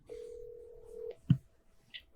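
A phone placing a call: a single steady tone holds for about a second, then a short click and a brief higher beep follow, faint and close with no talking.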